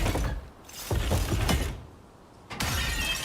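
A hammer strikes a reinforced glass wall in the video game Icarus, giving several sharp crashing impacts with shattering, a loud burst near the end.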